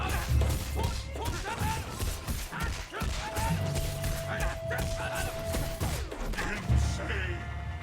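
Rapid heavy attacks land in a Killer Instinct fighting game combo as a dense string of punchy thuds and smacks, layered with game effects and character shouts, loud and continuous throughout.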